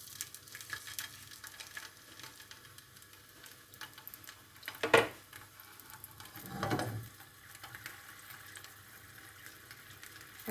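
Sausage with small holes pricked in it goes into a hot pan, giving one sharp burst of sizzle followed by a second softer wash of frying a moment later, over a low quiet background.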